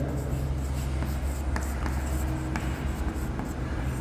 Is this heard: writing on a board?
yes